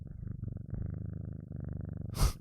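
Olive, a pet cat, purring close to a microphone in a continuous rhythmic rumble that rises and falls with each breath, ending in a brief rustling thump.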